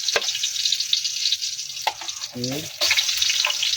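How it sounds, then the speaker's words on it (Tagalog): Garlic dropped into hot cooking oil in a pan, sizzling with a bright hiss punctuated by a few sharp clinks and stirs, while a voice speaks briefly partway through. "mainit na nga itong ating mantika kaya ilalagay na natin itong ating bawang muna"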